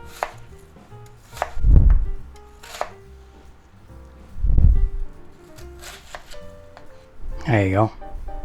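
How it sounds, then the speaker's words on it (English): A knife chops an onion on a cutting board, with a few heavy, separate thuds spaced a couple of seconds apart, close and loud, between quiet stretches with soft background tones. "let's chop this onion up"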